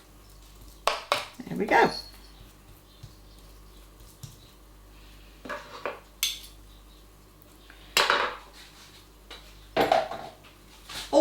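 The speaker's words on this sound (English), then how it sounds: "Now we're going to press this into the corners with a metal spoon." A metal spoon pressing flapjack mixture into the corners of a baking tin, giving irregular scraping and clinking bursts against the tin with pauses between, and a brief spoken remark in the middle.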